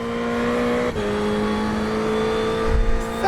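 A Ferrari GT3 race car engine drones steadily in the iRacing video game, holding a sustained tone with a brief dip and gear shift partway through, then a low thump near the end.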